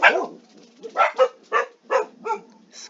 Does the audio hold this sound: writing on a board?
no